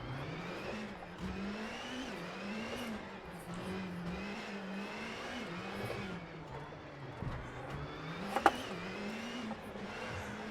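A car engine in a racing video game played on a triple-monitor Playseat rig, droning steadily with a low wavering pitch that rises and falls as the car speeds up and slows, plus a brief sharp knock near the end.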